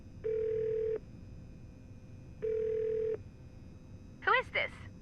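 A phone in the video game Nancy Drew: The Shattered Medallion sounds two steady, even beeps, then a quick run of warbling dial tones near the end, clean and close.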